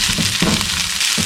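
Butter-coated fried rice being stirred in a hot pan for Vietnamese fried rice with Chinese sausages, a steady sizzle broken by a few soft scraping stirs, close and fairly loud with no talking.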